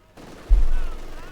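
A short, sharp burst of machine gun fire in the World War II strategy game Company of Heroes 2 hits with a heavy low thump and then fades quickly, loud and close.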